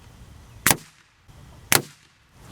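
Two sharp, loud .177 lead pellet shots from an air rifle at a penetration test, each a crisp thump on the target about a second apart, with quiet between them.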